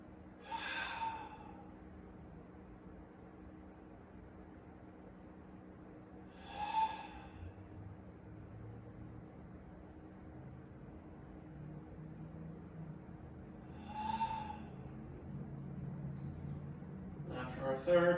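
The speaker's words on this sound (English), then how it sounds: "Let's take 3 deep breaths." Three slow, deep breaths spaced several seconds apart during a quiet morning yoga session, each a soft airy exhale or sigh over low background hiss, with a brief rustle at the end.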